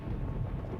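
A low, steady rumble of thunder from a storm in the video game Voices of the Void, brief and dull, with no voices over it.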